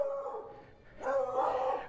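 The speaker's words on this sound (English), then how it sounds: "There's this beagle likes to bark at me." A beagle barks and yips in two short, moderately close bursts.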